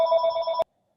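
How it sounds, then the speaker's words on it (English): A mobile phone rings in the background with a steady electronic tone that cuts off abruptly after about half a second, followed by silence. "And her phone's ringing in the background."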